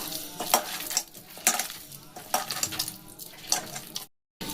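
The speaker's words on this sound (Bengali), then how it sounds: "আমি এগুলোকে খুব ভালো করে দেখুন মেখে নিচ্ছি হাত দিয়ে।" Sweet potato being kneaded by hand for jaggery pantua, giving wet squelching, stirring-like pulses that repeat in a loose rhythm, close and fairly loud, with no voices.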